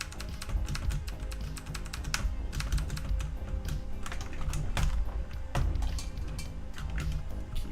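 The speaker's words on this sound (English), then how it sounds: "Keyboard." Rapid typing on a computer keyboard, dense clattering keystrokes coming steadily and close, with brief pauses between bursts and no talking.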